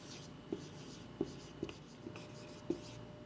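A pen scratches on paper in a quiet room, with soft taps as strokes begin and a steady faint scratching in between, close and clear, with no talking.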